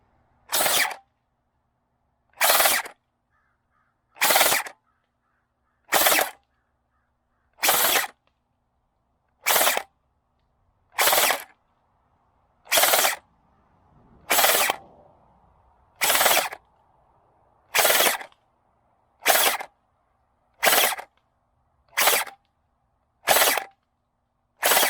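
An SKD CS001 foam blaster running on a 3S LiPo battery fires a series of about fifteen sharp, loud motor bursts, each short whirring shot separated by roughly a second and a half of quiet.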